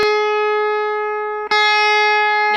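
A single electric guitar note on the 7th fret bent up a whole step to match the 9th fret pitch, sustained with a bright tone, then picked again partway through and rung out alone.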